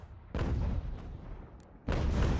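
Cannon fire in Ultimate General: American Revolution, two heavy booms with rumbling tails, the first rolling off over about a second before the second blast lands, loud and close.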